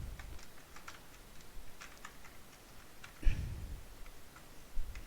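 Computer keyboard typed on while writing a code function: soft, irregular key clicks in short bursts, with one heavier thud partway through and another near the end, with no talking.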